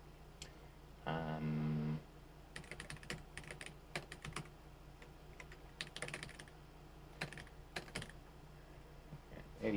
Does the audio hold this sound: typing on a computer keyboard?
yes